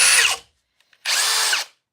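A RIDGID four-mode impact driver set to mode 3 backs out screws in two loud, close bursts, each roughly half a second of rattling, hammering whine separated by a brief silence.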